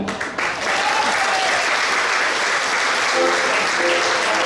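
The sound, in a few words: audience applause for the accordion player's birthday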